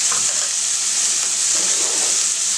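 Beet stems sizzling in a pan as they cook, a steady dense hiss of frying that carries on without a break and with no voices.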